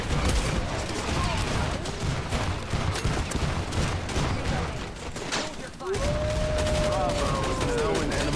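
Gunfire in the furry shooter video game Wild Assault, a dense continuous fusillade of rapid shots over a loud battle din, with a whistling tone sweeping near the end.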